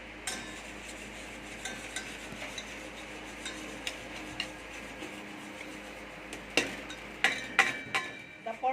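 A utensil stirs a mixture of eggs, sugar and cornstarch for maja blanca, making soft repeated scraping and light clinks against the pot over a low background hiss, growing sharper toward the end, with no talking.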